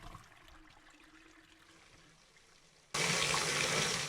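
A toilet flushes in the video game Verde Station, a sudden loud rush of water that cuts in abruptly after a quiet stretch and roars steadily to the end.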